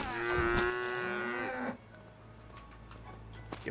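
A cow in the video game Craftopia lets out one long, loud, tonal moo that holds for about a second and a half, then cuts off into quiet ambient game sound.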